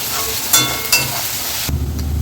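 Chopped green chillies dropped into hot oil while frying filling for onion kachori, a steady crackling sizzle with a couple of sharp pops and stirring scrapes, then a louder hiss from lower in the pan near the end.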